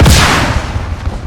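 A cruise missile explodes in Call of Duty Modern Warfare multiplayer: one loud, close blast that hits at once, then a rumbling tail that slowly fades, with nothing else over it.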